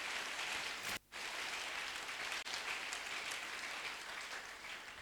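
A church congregation applauds and cheers to acclaim the King of Kings, a dense, steady wash of clapping that breaks off briefly near the start, then resumes and holds at an even level to the end.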